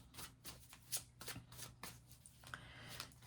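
Tarot or oracle cards being shuffled for a reading, a series of quick riffling bursts and soft slaps close up, fairly quiet, without speech.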